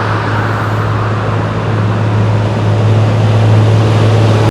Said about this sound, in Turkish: Arkamızdan arabalar geçiyor, görüyorsunuz.